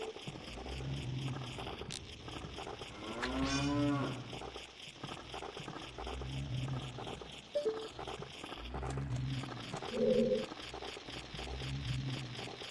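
Several cows in a video game moo repeatedly in a steady looping pattern, low drawn-out calls recurring every couple of seconds at moderate volume, with occasional brief game effects between them.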